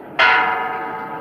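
A cracked church bell struck once: a sudden bright clang that rings on with a long, slowly fading hum, heard alone and close.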